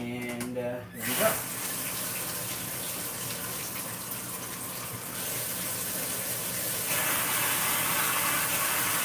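Water being drawn out of a home fish tank, a steady close rushing and trickling flow that grows slightly louder and fuller partway through, preceded by a brief bump and faint background voice.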